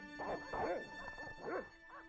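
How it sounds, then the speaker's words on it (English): Agitated dogs in the video game Broken Sword barking in four or five quick, yelping bursts at moderate distance, with whiny, uneven pitch and a faint tone in the background. "first agitate the dogs."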